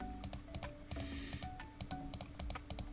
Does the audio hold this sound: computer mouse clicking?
yes